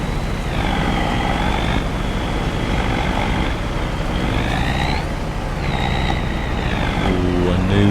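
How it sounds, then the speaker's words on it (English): A tractor engine in Farming Simulator 25 drones steadily throughout, with a whining tone that rises and falls as voices talk over it. "I think we're being pushed by the tractor."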